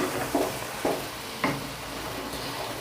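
Lamb karahi meat sizzling in a pan with powdered spices, a steady hiss of frying with three soft scraping stirs at regular intervals, close and moderately quiet.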